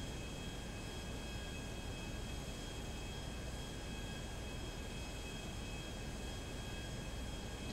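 Airplane in the video game GTA roaring down the runway for takeoff, a loud, dense and constant engine and rushing noise that holds steady throughout.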